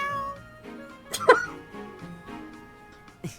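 A large cat in the Fire Emblem: Three Houses video game gives one sharp, loud meow midway, followed by a shorter cry near the end, over a soft musical background.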